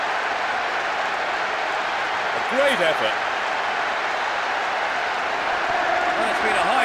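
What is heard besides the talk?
stadium crowd reacting to a goal, from PES 6 video game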